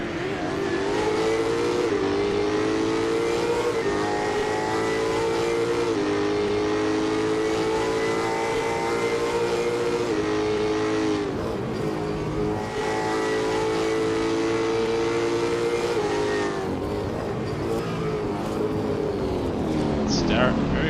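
V8 Supercar race cars in a video game at Adelaide, engines droning and revving continuously at high pitch for the whole stretch, loud and sustained, with a commentator talking over them.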